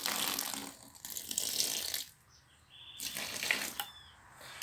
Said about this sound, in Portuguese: Eu boto só um pouquinho d'água.